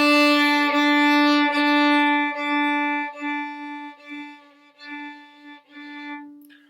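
A violin bows repeated notes on the D string, starting loud and growing steadily softer with each stroke until the final notes fade almost to nothing.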